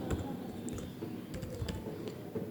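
Fingers tap out a file name on a computer keyboard, producing scattered close, crisp key clicks over a steady low hum, with no talk.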